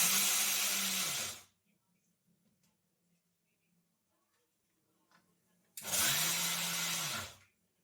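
A mixer grinder grinding peanuts in a home kitchen whirs loudly in two bursts, the first about a second and a half and the second nearly two seconds, with near silence between them.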